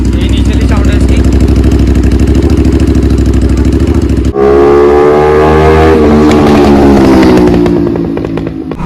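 Aprilia RS 457 twin with its stock exhaust, idling loud and close with a steady low throb, then blipped at about four seconds into a higher, rising engine note that holds before easing off.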